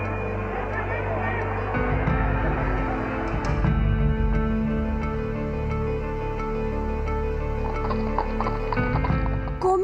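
Donkey cart hooves clip-clopping at a steady rhythm, fairly close and loud, with rolling wheel and street noise and a voice speaking over part of it.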